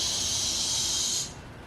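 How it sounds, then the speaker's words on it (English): Steam jetting from a pressure canner full of herbed potatoes, a steady loud hiss that drops away suddenly after about a second. "We're gonna bring it up until you see a steady stream of steam coming out"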